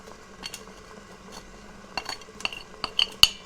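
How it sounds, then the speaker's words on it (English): Utensil scraping stuck sugar off a plate into liquid in an Instant Pot, a series of light irregular scrapes and clinks of metal on the plate, close and clear without talk. "get all of this sugar that is stuck to the plate in there"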